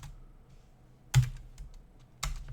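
A website address is typed on a computer keyboard. Soft key taps are sparse and close, and two sharper, louder clacks land about a second apart, with no voices.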